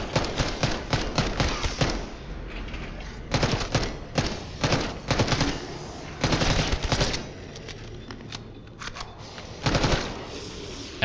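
Bursts of rapid automatic gunfire in the zombies mode of the game Terminus, loud and close, arriving in clustered volleys with short pauses between them.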